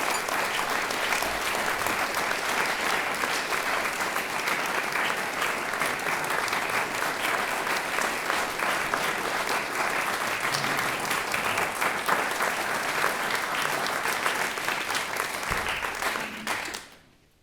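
An audience claps steadily to welcome a musician at a museum concert. The full, even applause holds for over fifteen seconds, then dies away quickly.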